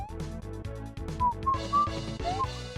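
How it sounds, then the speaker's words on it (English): A bright synthesized whistle melody from the Mega Man 7 video game rises over chiptune music, the tune gliding through several sustained notes at a steady moderate volume. "Yo, that whistle's been there since Mega Man 3"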